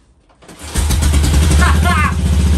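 A BSA M20 motorcycle engine catches after a brief quiet start, then settles into a loud, close, steady thumping idle while someone speaks excitedly over it.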